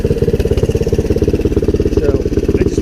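A Kawasaki Bayou 300 ATV engine chugs in a loud, steady, rapid rhythm up close as it sets off on a ride.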